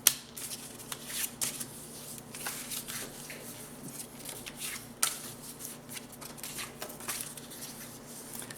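Bevelled corners of cardboard folded by hand, giving a run of crisp creases, crackles and taps at an irregular pace, close and fairly clear with no talking.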